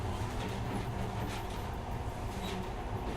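Monorail train running in the video game Metro: a continuous loud rumbling roar of the carriage on its track, steady and close for the whole stretch with no voices.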